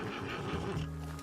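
A horse whinnies in the Red Dead Online video game, a short, rough neigh over a busy in-game background.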